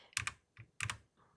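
Four soft clicks of computer keyboard arrow keys, in two quick double-tap pairs, close and quiet with nothing else around.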